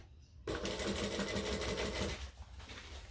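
An electric sewing machine top stitching a book bag backpack runs in a steady, rapid stitching whir after a brief quiet start, loud and close, then slows and stops near the end.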